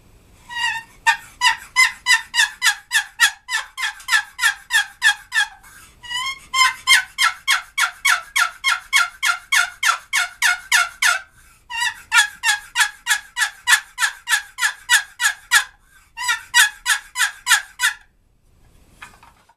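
A wooden turkey call carved from one solid block of wood, with no checkering on its sides, sounds in loud, close bursts of rapid rhythmic yelping clucks. Four long runs are separated by brief pauses.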